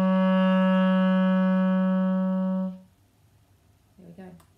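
A clarinet holds one low, steady G sharp for nearly three seconds before stopping, followed by a brief murmur of a voice.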